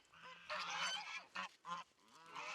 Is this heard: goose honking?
yes